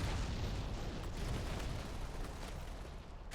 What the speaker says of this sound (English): Radio almost getting taken out by explosives to the floor